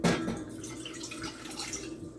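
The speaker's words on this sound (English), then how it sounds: "I'm going to go ahead and pour some water in." Water poured into a roasting pan for a roast leg of lamb, a brief close splash at the start, then soft trickling and dripping sounds fading out.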